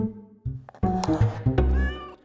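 A cat meows several times in a row, close and fairly loud, with the calls stretching longer toward the end.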